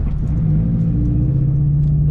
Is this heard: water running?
no